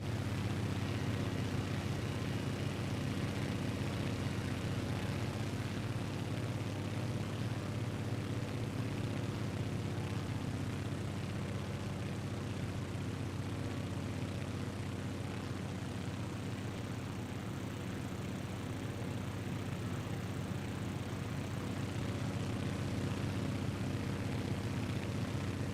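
A propeller tail-dragger plane engine in Microsoft Flight Simulator 2024 drones steadily and loudly for the whole stretch, a constant low throbbing hum with no pauses and no voices.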